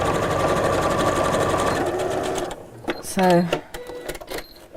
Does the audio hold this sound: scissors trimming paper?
no